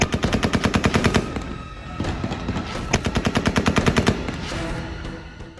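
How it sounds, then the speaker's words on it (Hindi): Loud automatic gunfire rattles in Kabul, with several sustained bursts of rapid shots separated by brief pauses. "भाग दौड़ करती इस भीड़ पर अंधाधुंध चलती इन गोलियों की गड़गड़ाहट"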